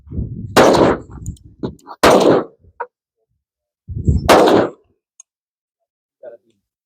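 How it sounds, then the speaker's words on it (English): Gunshots from a large-calibre handgun fired at steel gongs on an outdoor shooting range, a few sharp loud blasts separated by pauses, with people talking between shots. "I want to shoot my big gun."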